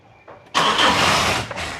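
An old car's engine cranks and catches with a sudden loud burst, then runs roughly at close range with no talk over it.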